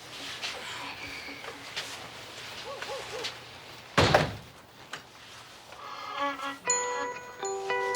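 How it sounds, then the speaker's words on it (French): A door swings shut with a single sharp thud midway through, amid quiet room ambience, followed by faint tonal sounds. "ferme la porte"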